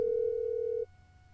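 A phone call to a friend gives one steady electronic tone that holds for most of a second, then stops, leaving a quiet line.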